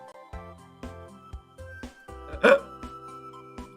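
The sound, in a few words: hiccups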